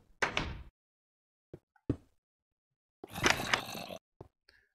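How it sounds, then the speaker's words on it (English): Double doors in Minecraft swing open and shut as pressure plates are stepped on, giving a few short, clipped wooden door clacks and thuds separated by silence, close and moderately loud. "Say you wanted to open double doors with pressure plates"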